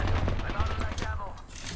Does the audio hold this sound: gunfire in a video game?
yes